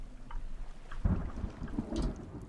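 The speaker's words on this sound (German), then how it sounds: "Es gewittert." Thunder rumbles through a stormy night in the survival video game The Forest, a deep, rolling boom swelling at the one-second mark over steady rain and wind, with no talking.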